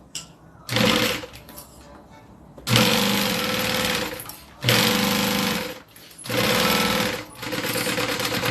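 Sewing machine stitching down a zipper on a bag: loud, rapid mechanical whirring runs in four bursts, separated by brief pauses.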